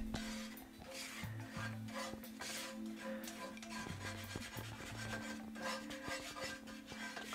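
A non-metal spatula scrapes kosher salt across an oily cooking surface in repeated gritty, rasping strokes, close and steady, with faint tonal background sounds and no voices.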